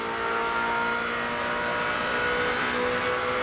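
A Helio Castroneves IROC race car at Richmond Raceway, heard onboard in the 03 car: a loud, steady, close engine roar holding a constant pitch throughout with no speech.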